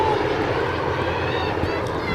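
Helicopters pass overhead at a freshman championship football game, a broad continuous engine and rotor rumble filling the scene steadily and fairly loud, with no clear speech.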